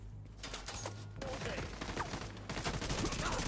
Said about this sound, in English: That sniper seems determined to deprive you of viable cover.